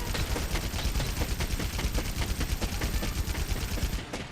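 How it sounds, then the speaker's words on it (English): Rapid automatic gunfire in the video game Monster Hunter World, a fast, loud, continuous string of shots that stops abruptly at the end, with no talk. "Oh yeah, now this is a gun."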